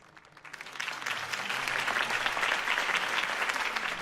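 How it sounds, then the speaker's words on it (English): A crowd applauds after a campaign speech in the video game Batman: The Telltale Series. The clapping swells from quiet into a dense, sustained roar of many hands and holds steady to the end, with no talk. "If only Mr. Wayne, my campaign's largest backer, could have heard that applause"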